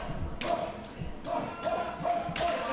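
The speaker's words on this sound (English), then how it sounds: "Look at those chops." Open-hand chops landing in a wrestling match, a series of sharp slaps in a rhythmic rapid-fire run over constant arena crowd noise, with an announcer talking throughout.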